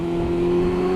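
A Yamaha Thundercat 600cc motorcycle engine holds a loud, steady drone with a strong sustained tone, continuous and close with no pause or talking.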